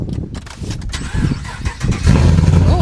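A car engine fitted with an aftermarket cam cranks over with a few uneven chugs, then catches and settles into a loud, lumpy running rumble close by.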